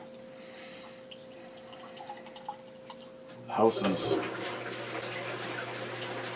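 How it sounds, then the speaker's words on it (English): Two Hearted beer poured into a glass at home, a brief splashing, fizzing pour starting partway through after quiet room tone and a low hum, with someone speaking briefly. "So I'm gonna pour myself a Two-Hearted."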